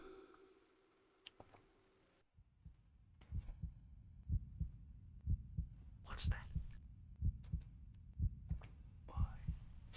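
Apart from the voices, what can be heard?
heartbeat sound effect in the video game The Dark Eye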